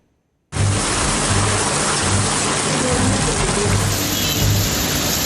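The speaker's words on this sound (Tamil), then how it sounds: "கூடலூர், பந்தலூர் சுற்றுவட்டார பகுதிகளில் மழை வெளுத்து வாங்கியதுடன் கடும் குளிர் நிலவியது" Heavy rain pours down steadily around Gudalur and Pandalur in the Nilgiris, a dense hiss that starts suddenly and then holds at full strength, with a faint low rumble pulsing underneath.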